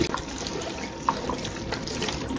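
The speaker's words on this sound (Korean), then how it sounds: "그러면 샤워라는 물을 누르시면 물이 이렇게 나오죠" A shower head runs steadily during hair washing, a close, continuous hiss of spraying water with small splashes.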